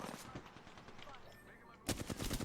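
Rapid automatic gunfire from a weapon in the Apex Legends video game, steady bursts that then grow louder and denser near the end, close and prominent with game ambience behind.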